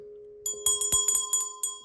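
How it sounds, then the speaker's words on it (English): A small Christmas 2017 ornament bell shaken by hand, with a quick run of bright tinkling strikes that ring on briefly, close and clear in a quiet room. "this beautiful little bell"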